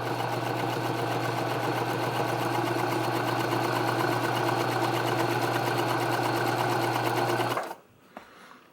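Industrial sewing machine (Pfaff 230) with a leather needle stitching 1000 denier nylon, a steady fast rattling hum that runs loud and continuous, then stops abruptly near the end.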